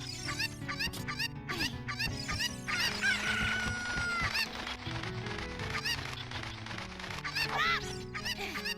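Chickens in Zelda: Ocarina of Time cluck in rapid repeated bursts and let out a drawn-out crow over a layered game music backdrop, busy and close.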